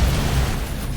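Space battle explosions in Galactic Civilizations 4, a dense run of heavy low booms rumbling together, loud and continuous at first, then thinning slightly.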